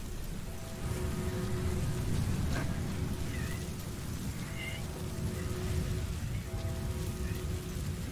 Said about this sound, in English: Storm.